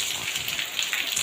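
Heavy rain falling on a village, a dense steady hiss of drops close by with no pauses across the short stretch.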